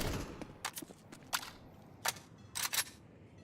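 Sharp gunshots punch through wooden panels in a competitive shooter match, several crisp cracks spaced irregularly, some single and one quick double pair, sounding moderately loud against a quiet background.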